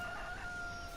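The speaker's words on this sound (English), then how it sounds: "Cock-a-doodle-doo yourself." Rooster crowing in the video game Port Limbo, a single short call with drawn-out tonal harmonics over steady background hum.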